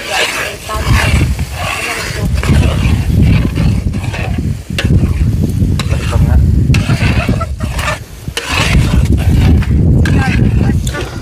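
Coconut milk and sugar cook down in a pan for biko, bubbling and sizzling loudly as a spoon stirs and scrapes through the thickening mixture in a continuous, dense churn.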